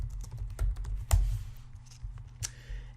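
Fingers tap out a search query on a computer keyboard, a close run of irregular clicking keystrokes with brief pauses between bursts.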